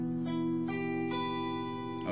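An electric guitar sounds a barre chord at the 7th fret. The chord is strummed several times in a slow rhythm, each ringing clean and sustained with no talking.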